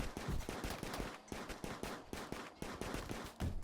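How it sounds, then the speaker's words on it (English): A pistol in the video game RimWorld fires in a fast, steady string of sharp cracks, about a dozen or more shots in under four seconds, loud and close with no talk over it. "Jeff is going to town with that pistol."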